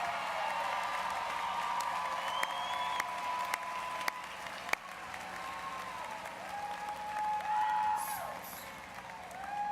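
Commencement crowd applauding standing graduates at a university ceremony, a broad sustained wash of clapping with some cheering, while a faint organ-like tone and scattered whoops sound through it.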